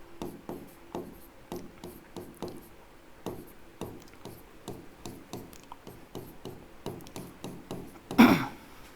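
Chalk or marker writing on a board during a chemistry lesson, quick rhythmic strokes and taps in steady bursts, close and fairly quiet, ending with a louder knock.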